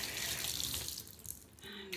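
Shower water runs steadily while hair is washed clean of henna dye with a solid shampoo bar, a close, continuous hiss and splash with slight shifts as the hands and hair move through the stream.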